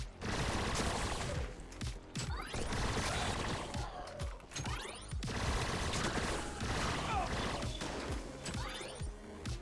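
Rapid bursts of video-game gunfire from a heavy, hard-kicking weapon in Mullet Mad Jack, loud and dense, with sharp repeated shots, mechanical clatter and brief gaps between volleys.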